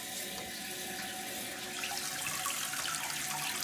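Water rushing steadily into a newly installed American Standard Cadet 3 tall-height elongated toilet after the supply is turned on, a loud continuous hiss and splash filling the tank, growing slightly stronger partway through.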